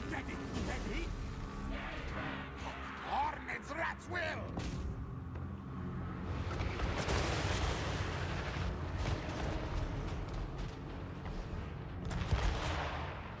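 Defensive towers firing during a battle in the strategy game Total War: Warhammer 3, with heavy booming shots and rumbling impacts layered over a dense, continuous battle din, under someone speaking.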